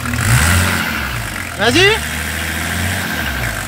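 A BMW 325 TDS with the M51 diesel engine idles and is revved briefly, a rising engine sweep standing out over the steady low diesel rumble, with a short spoken prompt near the start.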